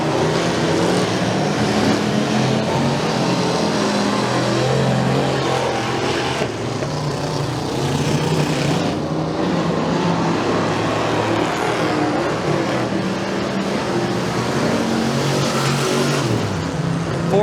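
Speedway race cars roar down the front straightaway at Bradford Speedway, engines revving loudly and continuously as the pack passes, with a brief dip and surge in the noise partway through.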